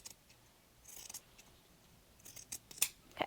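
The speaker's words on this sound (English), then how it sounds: "I'm going to cut my fabric just above that" Scissors snip through upholstery fabric in a handful of short crisp cuts at a close distance, clustered near the end and spaced irregularly, with no talking.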